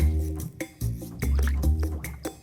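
Water poured over white medium grain rice with two cinnamon sticks and almonds for soaking, a close liquid stream with dripping and splashing in uneven bursts, no voices.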